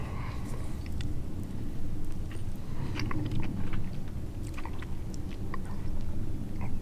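Crunchy chewing and biting on campfire-made candied bacon glazed with syrup, brown sugar and cayenne, steady and close over low outdoor rumble, with no talking.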